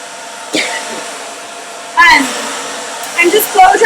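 A hair dryer blows steadily while a stylist dries the underneath layers of a client's hair, the airflow whooshing in bursts as it moves, with a person talking over it.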